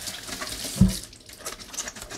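Water runs and splashes steadily from a tap while a cheap paint roller is being washed out, with a brief louder gush midway through.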